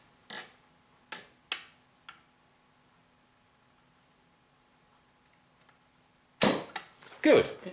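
A 1968 HMV Stereomaster 2032 stereo record player switches off with a few sharp mechanical clicks spaced apart over a faint background. Louder clunks and handling knocks follow at the end.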